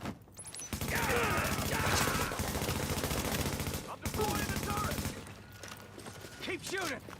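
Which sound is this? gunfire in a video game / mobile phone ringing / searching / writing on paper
gunfire in a video game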